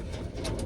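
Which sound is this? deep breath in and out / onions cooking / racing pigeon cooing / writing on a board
racing pigeon cooing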